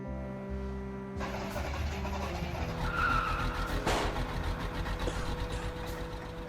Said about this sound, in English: so the bus finally fucking leaves